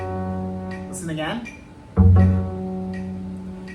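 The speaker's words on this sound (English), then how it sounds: "We're going to call this note F sharp." An F sharp played on the D string of a cello or bass, a sustained bowed tone with a brief slide, then a louder restruck note that rings on, with a short spoken remark in between.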